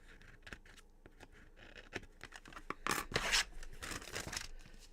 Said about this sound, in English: Trim it just a little bit.